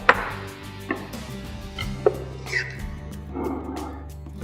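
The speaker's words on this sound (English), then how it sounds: "we're just going to chop over some fresh coriander leaf as well" Fresh coriander leaf chopped on a board with a knife for a beef tagine, a few sharp scattered knife taps close by, with soft kitchen clatter between them.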